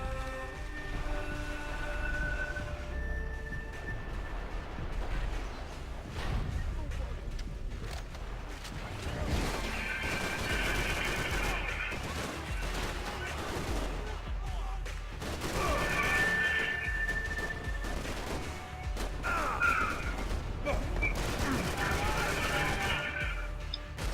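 Gunfire and crashes from the video game Max Payne 3, with dense, continuous combat noise, repeated bursts and impacts layered over a steady low rumble, sometimes under talk.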